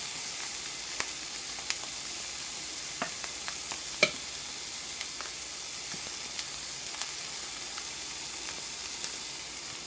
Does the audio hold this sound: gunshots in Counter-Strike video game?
no